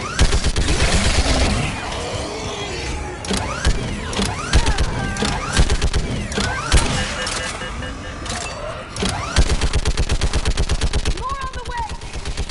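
Dense gunfire fills a Mass Effect 3 battle, with rapid machine-gun bursts and heavy shots layered over mechanical clatter and shouted voices, loud and nearly continuous throughout.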